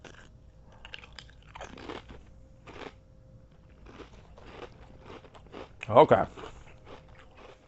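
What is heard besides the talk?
crunching and chewing Nissin black pepper crab chips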